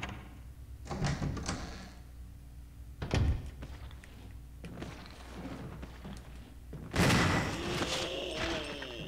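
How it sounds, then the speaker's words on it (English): A door creaks open in the Resident Evil remake, heard as several dull thuds and clunks followed by a louder burst with a drawn-out creak, set against a dark, rumbling game ambience. "Well, somebody opened the door."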